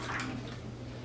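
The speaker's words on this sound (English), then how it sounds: "So now we are going to pour the rendered fat and broth" Rendered beef fat and broth pour into a pan, a steady close liquid trickle and splash for about a second with a low hum beneath.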